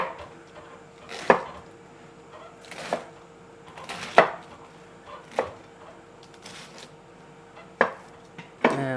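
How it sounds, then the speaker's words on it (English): A knife roughly chops a halved, cored head of lettuce on a board in sharp, spaced crunchy strokes, about eight cuts at an unhurried, uneven pace, close and with no talking. "And I'll just give this a rough chop."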